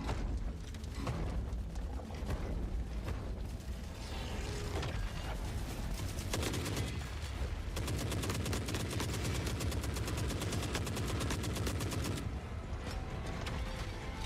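Sustained automatic gunfire in The Forever Winter video game, loud rapid bursts of rattling shots running nearly continuously with mechanical clatter and a brief lull partway through.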